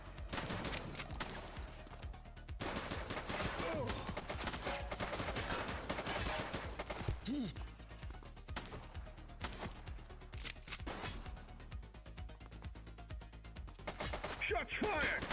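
Gunfire from a police video game shootout: rapid bursts and scattered shots ring out continuously over a busy game soundscape, loud and close, with faint voices in the background.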